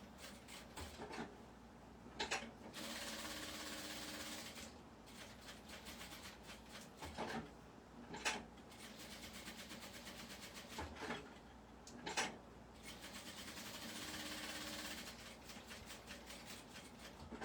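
A sewing machine stitches along the top of a small fabric souvenir piece, running in a steady, faint mechanical whir broken by brief pauses and a few sharp clunks.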